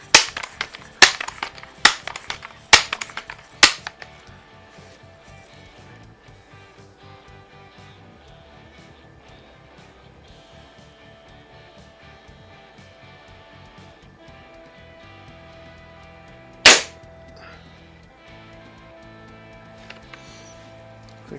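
Several sharp pellet shots from a Daisy Model 880 multi-pump .177 rifle firing wadcutter pellets crack in a quick cluster early on, followed by a long quiet stretch and one more loud isolated shot.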